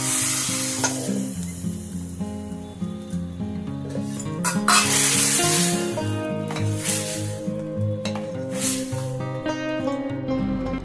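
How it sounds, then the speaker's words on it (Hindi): Steady sizzling and crackling of cumin and asafoetida tempering in hot ghee in a pan, under continuous background music. "और इसमें मैंने छौंक लगाया है"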